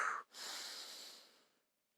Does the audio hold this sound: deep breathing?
yes